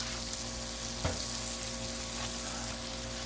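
Vegetable oil sizzles steadily on a Blackstone flat-top griddle, a dense continuous crackle with one brief louder pop near the start and no voices.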